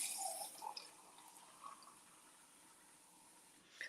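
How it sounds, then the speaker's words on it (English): Water is poured into a dish to rehydrate dried hash brown potatoes, a faint, quiet trickle with light splashes and drips close by. "let's put some water in here. Just enough to rehydrate those"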